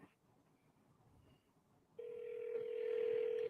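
A steady electronic tone on a phone line sounds as a call rings out, a sustained beep starting abruptly after a quiet stretch of faint background noise.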